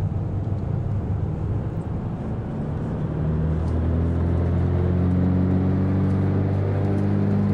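Twin engines of a Cessna 404 in the FSX flight simulator, throttled up to maximum power for takeoff, a steady droning roar that swells and holds loud and even with no talk over it.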